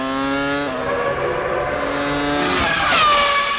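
Prost Formula 1 car driven by Jean Alesi on a 2000 season qualifying lap, its high-pitched engine screaming loud and close, pitch dropping on a downshift then surging sharply upward as it accelerates past, with no voices.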